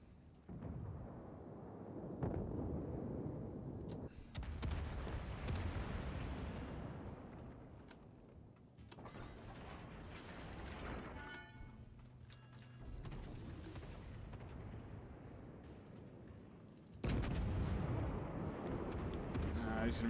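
Naval gun salvos from warships in World of Warships, deep booming blasts and rumbling impacts that come at intervals over a continuous low engine and sea drone, loud and close.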